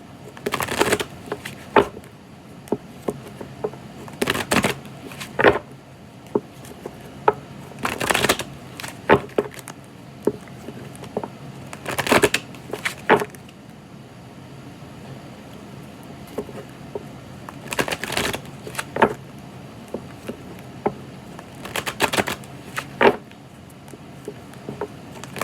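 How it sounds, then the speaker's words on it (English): A deck of tarot cards is shuffled and cut by hand, repeated riffling bursts and soft slaps of cards on a surface, close and fairly quiet with gaps between rounds. "I'm going to cut the deck, see what kind of cards we get."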